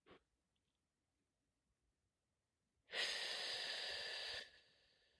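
A single long exhalation during a conscious breathing exercise, a steady airy rush of about a second and a half after a faint breath at the start and near-silence, with no one talking.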